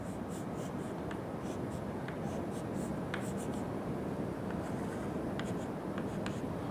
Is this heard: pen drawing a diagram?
yes